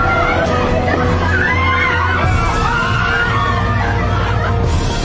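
A panicking crowd screaming inside a burning building: dense, continuous shrieks and shouts from many people, loud and chaotic throughout, with occasional sharper cries rising above the mass.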